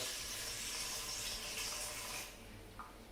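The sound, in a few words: water being poured for sourdough dough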